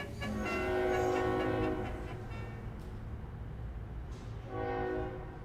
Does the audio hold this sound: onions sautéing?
no